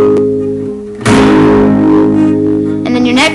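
An acoustic guitar chord fretted at the 7th fret rings out, struck once and left to sustain with a slightly gritty, effected tone, followed by a brief second strum near the end.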